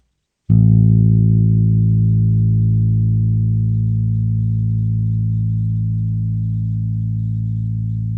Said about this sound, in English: Let's hear the A string, which is the second string down from the top.